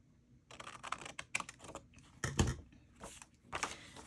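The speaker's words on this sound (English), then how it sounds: "I am going to cut this out entirely and then slice it down" Cardboard from a macaroni box is cut and sliced by hand, giving close, intermittent scraping and crunching strokes with brief pauses, clearest near the middle, and no talk.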